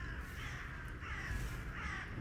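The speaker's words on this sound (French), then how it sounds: "des corbeaux qui volent en rond autour de ce sanctuaire" Crows caw repeatedly over a dense, steady ambient bed, circling above a sanctuary in a tabletop role-play scene, the harsh calls clear and loud and arriving in roughly regular bursts.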